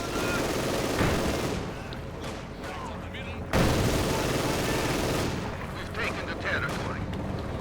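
Maxim machine guns rattle through a Company of Heroes 2 battle, a dense, loud layer of automatic fire and distant booms running continuously, with a sharp burst partway through.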